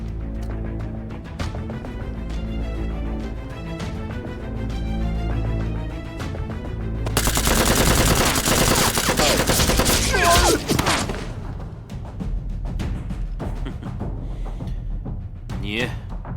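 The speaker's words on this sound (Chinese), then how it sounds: "难民营里的人刚才向我们开火了" Sustained gunfire bursts at a refugee camp in a Chinese drama scene, dense and loud, building into a heavy barrage midway over a musical score, with speech present.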